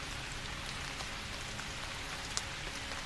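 Steady rain falling on a surface, a dense, even hiss of drops that holds at a constant level throughout with no voices, one small brighter patter near the end.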